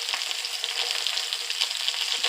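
Small salmon pieces pan-searing in a frying pan, a steady bright crackling sizzle with constant spitting and popping, close and loud, no talking.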